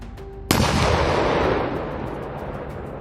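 An Abrams tank fires on an armored personnel carrier, a single sudden heavy blast followed by a long rumbling decay that fades over a couple of seconds, loud and fairly close.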